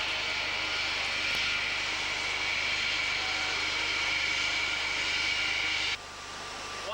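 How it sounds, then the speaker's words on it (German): Concorde jet airliner approaching to land at Paris, a steady loud engine roar with hissing airflow throughout, dropping abruptly in level near the end as the thrust eases. "Nach gut 3 Stunden schon die Vorbereitungen zur Landung in Paris."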